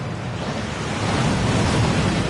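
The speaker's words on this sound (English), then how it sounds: "That waterfall washes away all enchantments." The roaring Thief's Downfall waterfall at Gringotts in a Harry Potter video game, a loud, dense, continuous rush of falling water with no other sounds.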